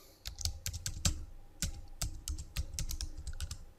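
Quick bursts of typing on a computer keyboard, close and crisp, with irregular rapid keystrokes and brief pauses, no speech over them.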